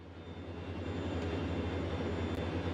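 Steady, loud aircraft engine drone at full throttle in Microsoft Flight Simulator, a continuous low rumble with constant tone and no breaks, heard alone.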